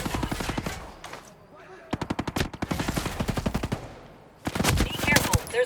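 Rapid automatic gunfire in the video game Ghost Recon Breakpoint comes in long, loud, rattling bursts separated by short pauses, with a final heavy burst near the end.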